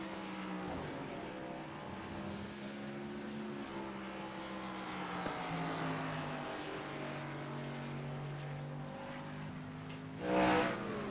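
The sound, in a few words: racing trucks driving on a track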